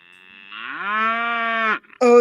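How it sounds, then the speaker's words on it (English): Cow mooing: a single long, loud, rising low moo held close for over a second, breaking off briefly before another call starts. "Moo moo. Moo moo. Moo and moo moo."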